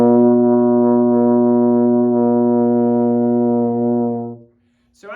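A baritone horn sounds a single open B flat with no valves pressed, one steady, full, sustained tone held for about four seconds before cutting off, then a brief soft noise.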